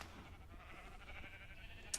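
A sheep bleats in Minecraft, heard faintly within steady game ambience on a farm with cows, with a brief brighter blip near the end.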